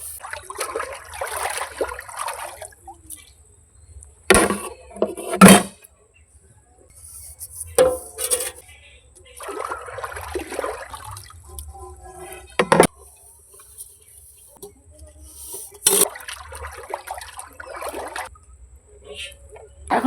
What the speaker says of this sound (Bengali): ভাত খেয়ে নিয়েছি, নিয়ে এখন কি করছি, বাসন মাজছি।